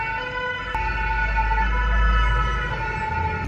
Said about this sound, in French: il y a les pompiers qui passent